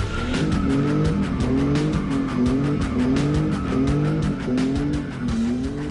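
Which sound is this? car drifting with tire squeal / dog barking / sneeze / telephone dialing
car drifting with tire squeal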